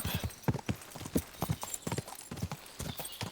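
Horse hooves clip-clop at a steady riding pace in Kingdom Come: Deliverance 2, an even rhythm of quiet, close thuds.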